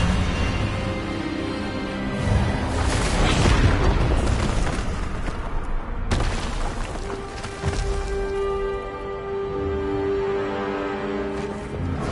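Expelliarmus spell cast in the Hogwarts Legacy video game, a loud booming magical burst that swells and crashes over a few seconds, followed by a second impact and a fading shimmering tone.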